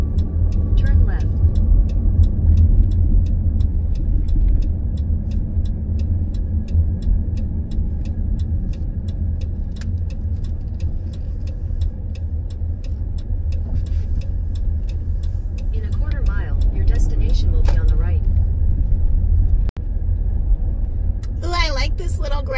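A car rolls steadily along a little gravel road near a campground, its engine and tyres making a constant low rumble throughout, with faint ticking and a few brief higher sounds near the end.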